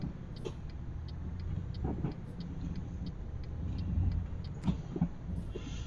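Low, steady diesel rumble of a truck engine pulling a lightweight trailer in Euro Truck Simulator 2, droning under faint regular ticking, with a couple of brief clicks and a slight swell in engine noise near the end.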